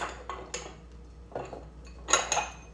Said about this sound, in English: First thing we're going to do is I'm going to separate 3 eggs.